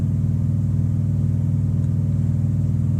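A Volvo semi truck with a sleeper cab rumbles past, its steady low diesel drone loud and close and holding level throughout, with no talking.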